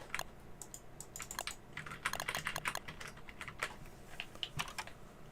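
A computer keyboard and mouse are used for gaming, producing quiet, irregular bursts of clicky key taps and presses that come in quick clusters with brief pauses, close to the microphone and with no voices.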